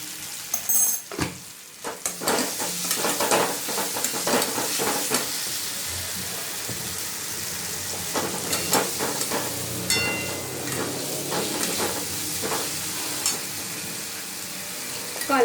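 Masala frying in oil for a Bengali dhoka curry, a loud continuous sizzle and hiss close by, broken by the scrape and clatter of a spoon stirring the pan, with no talking.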